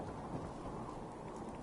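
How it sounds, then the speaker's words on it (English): A thunderstorm in the video game Fallout 4, a steady low rumble of rain and distant thunder filling the background, faint and even throughout with no voices. "We can sleep through this storm."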